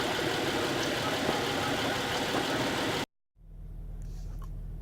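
Steady engine drone of a 2010 Honda Odyssey EX-L minivan on a test drive, a close, constant mid-low rumble that cuts out abruptly partway through, then returns as a quieter idle-like hum.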